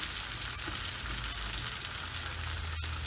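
Cumin seeds and green onions sizzle steadily in a hot oiled pan, a continuous close frying hiss with a brief soft tap near the end and no talking.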